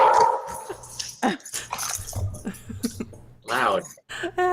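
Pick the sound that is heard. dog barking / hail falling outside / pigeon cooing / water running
dog barking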